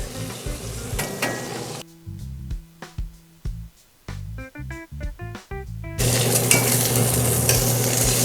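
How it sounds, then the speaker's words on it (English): Trader Joe's steak hitting a hot cast iron pan: after a stretch of clanks and tapping, a loud, steady sizzle takes over, bright and close. "Our Trader Joe's steak, we're gonna go on to our cast iron with it here."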